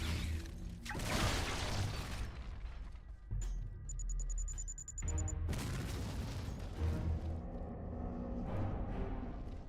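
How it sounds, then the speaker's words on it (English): Pipe bombs blast repeatedly in the shooter Duke Nukem Forever, loud booming explosions with shattering debris and mechanical clatter, one burst followed by a high ringing tone before more heavy blasts. "Where are those pipe bombs coming from?"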